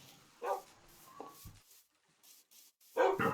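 Dogs in the Minecraft video game bark in short, sharp yaps, a few separate bursts spaced out by quiet gaps, fairly close and clear.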